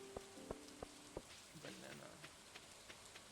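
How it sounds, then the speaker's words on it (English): Soft pattering rain in the video game Stardew Valley, a gentle steady patter with a few light clicks and taps, quiet under faint background sound. "You hear the nice little rain."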